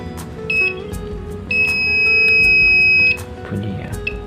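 Digital multimeter beeping while probing a shorted diode, a short high-pitched chirp followed by a long steady tone of about a second and a half, then a brief blip, loud and close with faint handling noise.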